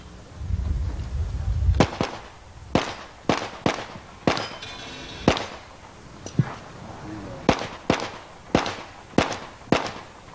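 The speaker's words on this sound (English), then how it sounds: "shooting a Beelert Precision 38 Super" Sharp pistol shots from a Beelert Precision 38 Super fired in a national practical shooting match, about a dozen loud cracks in uneven quick pairs and singles over roughly eight seconds, following a low rumble, with faint voices in the background.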